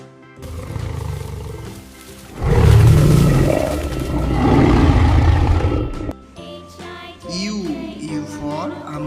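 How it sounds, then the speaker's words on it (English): A tiger roars loudly several times in a children's alphabet song setting, deep rumbling bursts rising and falling over about six seconds, followed by faint tinkling and chirpy sounds. "T for tiger."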